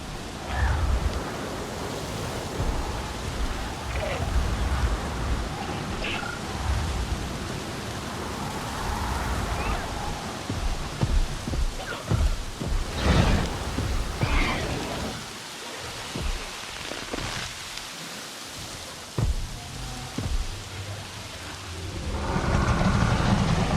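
Heavy rain pours in a thunderstorm in the video game Jurassic World Evolution, with a loud continuous downpour and deep rumbles of thunder rolling underneath, easing briefly before swelling again.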